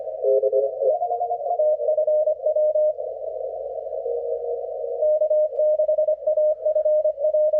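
A continuous narrowband tone, keyed in steady on-off rhythm like Morse code, from an HF radio transmission on the 28 MHz, 10 meter ham band, clear and alone against a quiet background.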